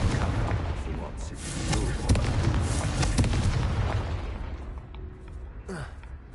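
A Confringo fire spell cast in Hogwarts Legacy bursts as a dense explosive rumble with sharp cracks, fading over several seconds into a quieter crackle.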